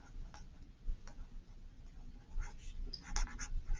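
A pen scratches and taps on paper while a long title is written by hand in small letters, making soft irregular strokes with brief clicks, close and quiet.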